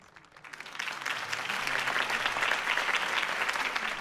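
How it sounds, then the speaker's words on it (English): A crowd applauds after a campaign speech in the Batman: The Telltale Series video game, the clapping swelling quickly from quiet to a dense, steady ovation that holds to the end. "If only Mr. Wayne, my campaign's largest backer, could have heard that applause"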